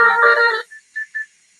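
A home landline telephone rings with a loud warbling electronic tone that cuts off abruptly, followed by three short, quieter beeps.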